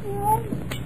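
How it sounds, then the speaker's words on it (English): Siamese cat giving a single short meow, close and clear over a light background hum. "Siamese cat."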